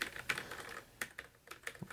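Rapid clicky typing on a Das Keyboard 4C with Cherry MX Brown switches, close and fairly quiet, a steady patter of individual keystrokes with brief pauses and no voices.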